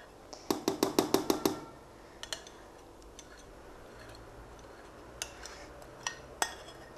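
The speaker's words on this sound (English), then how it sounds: "make sure you clean your bowls properly" Utensil scraping and tapping chocolate out of a bowl: a quick run of about seven sharp metallic clinks, then scattered lighter taps and clicks spaced out across the rest of the clip.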